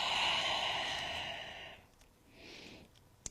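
A long breathy exhale during a yoga stretch, a steady airy sigh that fades out, followed by a softer second breath and a small click at the end, close and quiet.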